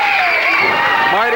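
Loud wrestling arena crowd at a 1986 CWA Championship Wrestling event cheering and shouting for Tommy Rogers, a sustained roar of voices with a commentator talking over it.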